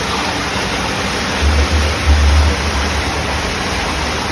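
Sewer water pouring into a river in Brussels, a loud, steady rushing roar like a waterfall, with brief deeper surges in the middle.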